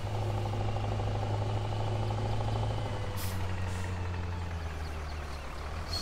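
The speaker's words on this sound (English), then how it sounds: "See if I can get across this bridge with a big old truck." A big truck drives in Farming Simulator 2017 with a steady low diesel engine drone, a short hiss of air brakes partway through, and no talking.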